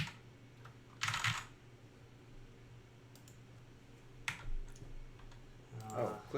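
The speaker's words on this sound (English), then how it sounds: "Click on that keyboard." A computer keyboard clicking during a high-end gaming PC build, a few short bursts of keypresses and clicks scattered over a low steady hum, fairly close.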